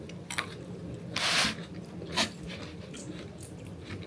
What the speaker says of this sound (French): ça croustille sous le palais